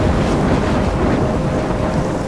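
A storm in the video game Life is Strange roars as a loud, steady rush of wind and rumbling thunder, dense and unbroken, with no voices over it.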